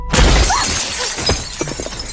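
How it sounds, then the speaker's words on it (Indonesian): Car window glass shatters loudly as a thrown object strikes it, a sharp crash right at the start followed by a scattering tinkle of falling fragments over about two seconds. "tiba-tiba ada yang melempar sesuatu hingga kaca mobil pecah"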